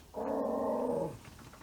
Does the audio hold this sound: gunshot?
no